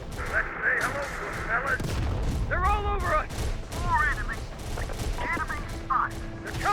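Battle in the Terminator: Dark Fate Defiance strategy game: repeated gunfire bursts and rocket blasts crackle at moderate volume amid shouted voices and radio chatter.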